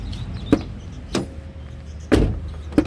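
Doors of a black 2010 Isuzu Panther LV Turbo opened and handled one after another, giving four sharp metallic clunks and latch clicks spaced irregularly over a low idle hum, close and without speech.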